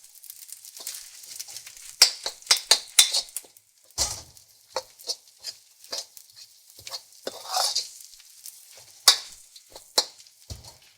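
Garlic chives and naan prik pao stir-fried in a wok with duck confit and noodles: a string of sharp metallic scrapes and clanks from the spatula, set over a soft sizzle. A louder cluster comes near the start and the sound stays close, with no one talking.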